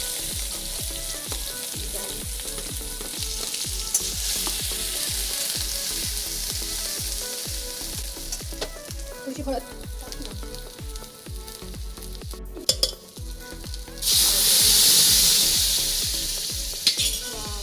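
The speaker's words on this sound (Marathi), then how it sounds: "जिरी आणि मोहरी टाकलं आहे आणि याच्यात आपण टाकणार आहोत आपला मसाला" Loud, continuous sizzling and crackling of cumin and mustard seeds frying in hot oil, with rhythmic stirring scrapes and a brief burst of intense hissing near the end.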